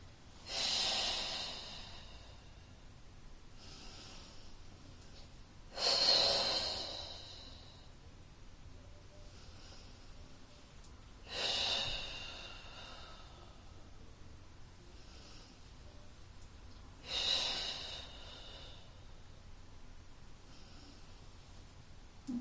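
Four strong, airy breaths during a Pilates class, each a broad hiss swelling and fading about every five to six seconds, with quiet pauses between and no talk.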